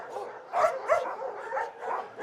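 A six-week-old puppy at a war-zone dog shelter in Ukraine gives a quick series of short, close, high-pitched yips and whimpering barks, about five bursts in two seconds, with no voices.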